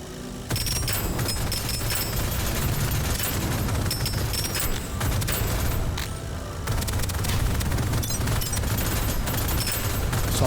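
Rapid gunfire in the video game Deadzone Rogue, a dense and loud barrage that runs almost without a break, with booming impacts mixed into a busy wash of noise.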